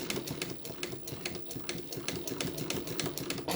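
A Mannan International chain stitch machine runs continuously while stitching a patch on felt, a fast, even mechanical chatter with rapid rhythmic needle strikes, loud and close.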